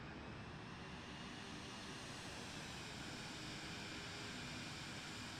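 A Vision Jet's engine in Microsoft Flight Simulator 2020 produces a steady, dense broadband roar with a constant whine. It holds an even loudness throughout with no pauses and no voices.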